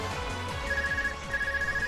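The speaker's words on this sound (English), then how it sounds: "Arc is ringing." An ARCUS communicator rings in the video game Trails of Cold Steel, a steady electronic ringtone chiming in repeated bursts over a low game background.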